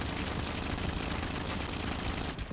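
Sustained automatic gunfire from an MSMC or AK in Call of Duty Mobile, a continuous rapid burst that holds steady and loud for the whole stretch and cuts off near the end.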